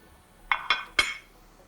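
Three quick bright clinks of a dish being picked up in a kitchen during cooking, close and clear, spaced a fraction of a second apart.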